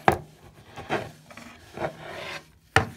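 A wooden mallet handle is screwed back into its head, giving a few slow dry rasping scrapes of wood rubbing, spaced apart, ending in a sharper knock, close and moderately quiet with no talk.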